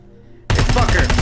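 Gunfire in the Terminator video game erupts abruptly after a near-silent moment, a loud, dense burst of rapid shots tearing a machine apart.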